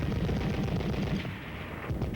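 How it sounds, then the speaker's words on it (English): A .30 caliber machine gun fires in rapid bursts of rattling shots, dense and continuous at first, then thinning into a few scattered reports. "fire additional weapons like the .30 caliber machine gun"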